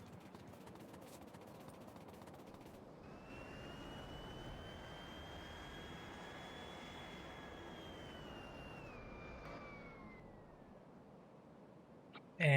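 A plane's engine drones in the factory-building game Factorio, a steady jet-like roar with a rising then falling whine that swells and fades, followed by a sudden loud burst at the end.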